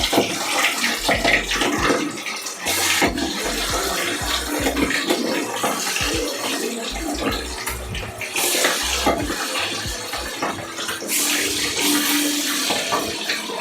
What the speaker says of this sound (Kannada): ಚೆನ್ನಾಗಿ ಕಾಯಿದೆ ಎಣ್ಣೆ. ನೋಡ್ತಾ ಇರ್ಬೋದು ಯಾವ ರೀತಿ ಪಟ ಪಟ ಪಟ ಪಟ ಅಂತ ಕುದೀತಾ ಇದೆ.